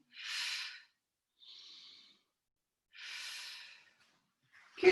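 Slow, close breathing during a Pilates rotation: two long airy exhales alternating with softer inhales, separated by silence, ending with a sharper quick breath.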